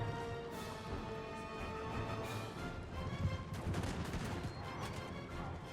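Napoleonic troops fire muskets in Napoleon: Total War, dense overlapping volleys and crackling shots rolling continuously at a loud, sustained level with no talk.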